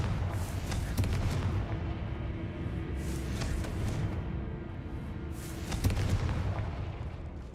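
Confringo spell explosions in the Hogwarts Legacy video game, a few sharp booming blasts spaced out across a rumbling background inside a cellar, with no talk.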